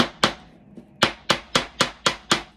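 A hammer driving a nail into wood for a DIY family name house, eight sharp close strikes, the first two spaced apart, then a steady even rhythm of blows.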